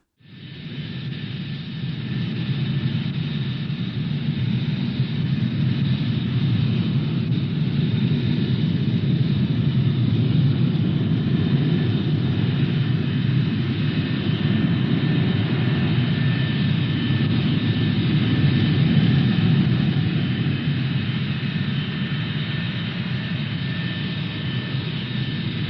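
F-86 Sabre jet flying overhead, a steady, loud roaring rumble with a high whine, sustained for the whole stretch after a quick onset and swelling slightly before easing off.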